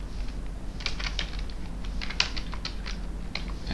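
Steady close-up typing on a computer keyboard, a run of crisp keystrokes entering a job title, clicking in irregular bursts over a constant background hum.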